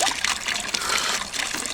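Spring water on a Pennsylvania roadside, running since 1763, pours in a steady, close splashing trickle that continues without a break and without voices.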